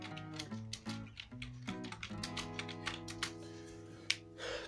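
Computer keyboard typing practice, a run of quick clicks and taps over steady musical background tones, with one sharper keystroke near the end.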